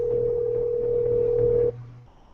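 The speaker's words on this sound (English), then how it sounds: "So play test sound" A test sound played from Google apps audio settings: a steady electronic tone like a dial tone, humming evenly for over a second and a half before cutting off abruptly, followed by faint room noise.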